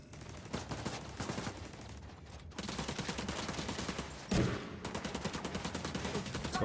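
Automatic machine gun fire in the video game The Division 2: loud, rapid bursts of shots running almost continuously, a short lull partway through, then a heavy blast before the rapid firing resumes.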